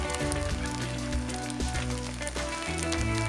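Olive oil drizzled onto a finished paella sizzles steadily in the hot pan, a close, continuous crackling hiss with no one talking over it.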